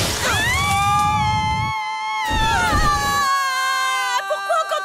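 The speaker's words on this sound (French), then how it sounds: "Pourquoi on continue à crier?" Several people scream together in long, rising and falling cries while plunging from a collapsing structure, loud and close with brief breaks between the overlapping shrieks, a short crash-like burst near the start.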